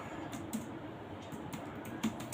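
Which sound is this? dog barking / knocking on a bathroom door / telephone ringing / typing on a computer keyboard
typing on a computer keyboard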